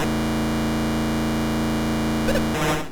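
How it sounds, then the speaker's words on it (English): Atari 2600 Pole Position racing game: a steady buzzing engine drone runs throughout, then a brief warbling swoosh of another car whizzing past near the end, followed by a noisy burst. "whether it's the sound of other vehicles whizzing past you"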